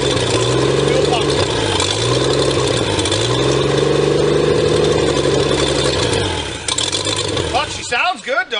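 A car engine runs steadily near the microphone during a fuel pump test, holding a rough idle with slight wavering in pitch before it drops off and dies out near the end, followed by a brief squeak.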